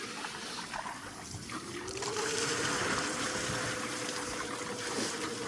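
A water wheel driving a generator turns as its buckets fill, a steady close rush and trickle of water with a faint drawn-out whine rising in the middle.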